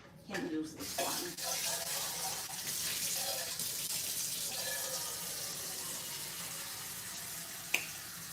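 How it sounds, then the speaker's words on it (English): Water pours steadily from a kitchen tap while hands are washed beneath it, a continuous splashing hiss that holds for several seconds after a couple of clunks at the start, ending with a small sharp knock. "I'm going to be washing off my hands so that I can knead my dumpling"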